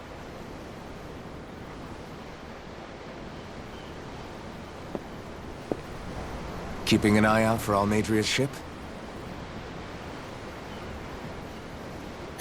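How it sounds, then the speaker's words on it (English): Ocean waves in the fantasy role-playing game Tales of Arise, a continuous broadband wash of surf heard aboard a ship, steady and moderately loud, briefly under a short spoken line. "I'm looking at the ocean."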